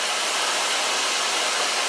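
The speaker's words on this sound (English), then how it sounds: "Gonna blow dry with diffuser on my latest T.K.S blow dryer" A T.K.S blow dryer fitted with a diffuser, running as a loud, steady airy roar held close and unbroken throughout.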